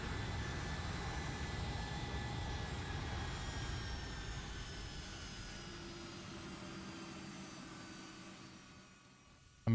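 A FlightFactor 757-200 airliner rolling out after landing in the X-Plane 10 flight simulator, a broad steady jet engine roar with whining tones that slowly fades and drops away, no talk.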